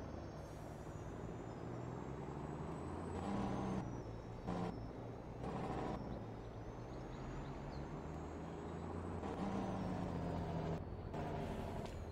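Truck engine in a farming video game, a dual-rear-wheel truck driving on farmland: a continuous steady drone with a few brief hissing bursts over it, no talk.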